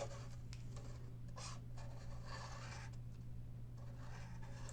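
Black washable felt marker sketching small fish on paper, with quiet scratchy strokes and short rubbing bursts coming close and faint over a steady low hum.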